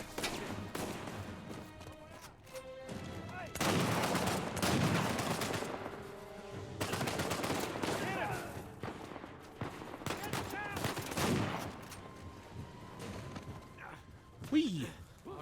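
Gunfire rings out in an Uncharted 4 firefight with a sniper, loud bursts of shots in two long stretches while a player shouts and talks over the action.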